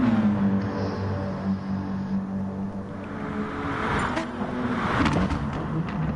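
GT2 race cars roar through a tunnel on the Dragon Trail Seaside circuit in GT Sport, a sustained engine drone with shifting pitch and a rising rush as cars pass, moderately loud and continuous.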